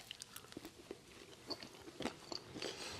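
Someone bites and chews a red lentil patty topped with cashew cream, making close, quiet wet crunches and smacking chews in an uneven rhythm, with no talking.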